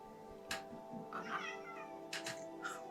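A summoned cat in a tabletop fantasy campaign meows a few times, short faint calls over a quiet room hum with light background noise.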